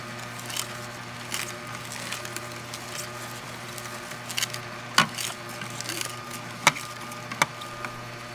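A Hurom slow juice extractor grinds curly kale that keeps clogging its chute: a low, steady motor hum runs throughout, broken by scattered sharp crackles and snaps as the leaves are crushed.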